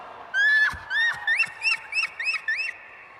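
A person at a baseball game mimics a bald eagle with a string of high, chirping whistled calls, loud and close, repeated in quick bursts that grow choppier toward the end.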